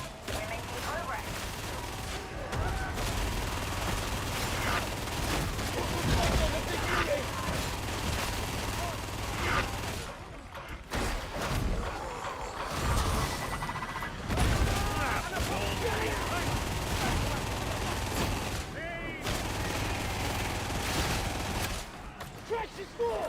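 Heavy gunfire in Warhammer 40,000: Darktide, continuous rapid bursts and overlapping shots with occasional booms, punctuated by short lulls, while voices shout over the combat.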